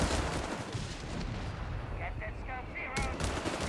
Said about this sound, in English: more mortar firing down here